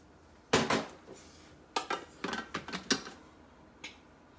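A spatula scraping around the sides of a Thermomix TM6 bowl, a clattering burst followed by a run of short plastic scrapes and knocks, then one last faint tap.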